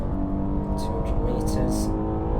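Maserati Levante SUV in Assetto Corsa, engine droning steadily at high revs near redline with a brief gear change, loud and close throughout.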